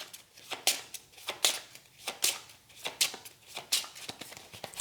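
Playing cards for the Call To Adventure board game get shuffled close up, a steady series of crisp riffling bursts repeating roughly every half to one second, with no talk.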